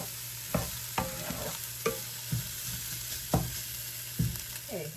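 Beef and onions frying together in a pot, with a steady sizzle throughout and about eight sharp stirring scrapes and knocks at an uneven pace, close and moderately loud, with no talking.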